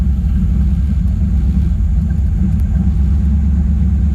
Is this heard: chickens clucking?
no